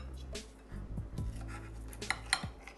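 A knife scraping and clinking against a bowl while cutting ham steak, a few scattered metallic taps and scrapes, close and fairly quiet.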